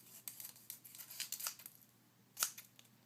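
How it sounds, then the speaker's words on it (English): Scissors cutting paper pieces for a paper knife, a quick series of crisp snips and rustles close by, with one louder snip near the end, no talking. "you're just going to want to just cut them together"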